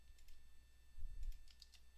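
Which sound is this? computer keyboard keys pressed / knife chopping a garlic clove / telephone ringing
computer keyboard keys pressed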